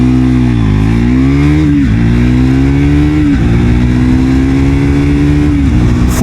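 A Triumph Speed 400 motorcycle launches hard and accelerates through its gears, its loud, close engine note climbing steadily, dropping briefly at each of several shifts, then rising again, with no voices.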